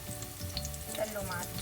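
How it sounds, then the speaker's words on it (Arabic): Finely chopped garlic and chili flakes frying in oil in a pan, making a close, continuous crackling sizzle with small pops and no voices. "وقلي فيه توم مقطع ناعم. حضيف هلا شوي من التشيلي فليكس"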